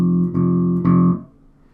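Bass guitar note played on the first fret of the E string three times in quick succession, each pluck a deep, clear tone, the last one ringing out and fading, with no talking.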